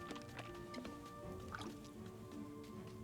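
Soft liquid drips and small squishy sloshes play as a character drinks water in the survival video game Wildmender, faint and irregular over a quiet background with no talk.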